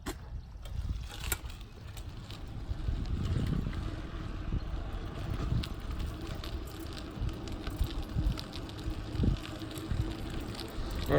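A restored vintage muscle bike ridden outdoors, continuous rolling tire noise and chain whir with wind buffeting and occasional small rattles and clicks, fairly close and steady throughout.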